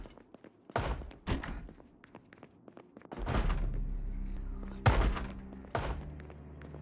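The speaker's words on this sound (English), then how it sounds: "Can't see which doors are shaking." Heavy thuds of a zombie pounding on a shaking door in the video game Project Zomboid, landing as a series of irregular, moderately distant thumps and slams with short gaps between them.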